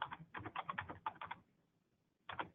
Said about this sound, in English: I'm going to type in part of our name